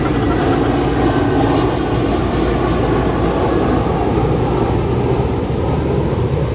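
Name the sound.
airplane flying overhead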